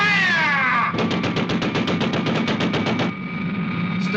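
A ship's guns firing at an enemy ship in a scene with a rapid burst of about fifteen evenly spaced loud shots over steady engine-like drone, preceded by a falling whistle-like tone.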